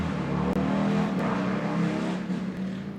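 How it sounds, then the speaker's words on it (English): A neighbor's motorcycle engine running loud and steady nearby, a continuous low rumbling drone that holds through the whole stretch with no voices. "Neighbor and his motorcycle."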